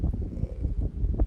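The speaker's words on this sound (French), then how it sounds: "Il y a un peu de vent." Wind buffeting an outdoor microphone, a loud low rumbling roar with uneven gusty swells across the short stretch, no voices.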